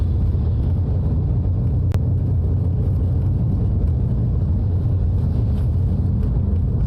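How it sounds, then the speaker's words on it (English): Smooth morning traffic on a Grenada road heading into St. George's: a continuous low rumble and hum of passing vehicles, fairly loud and unbroken, with no voices. "a nice flow of traffic this morning"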